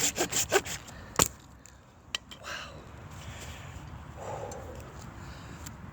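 Hand saw cutting into solid fatwood stump, a few quick rasping strokes at the start followed by a sharp crack, then softer scraping and rustling close by, with no talking.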